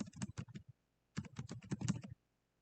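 Computer keyboard typing in two quick bursts of close, crisp keystrokes separated by a brief pause, fairly quiet and with no speech.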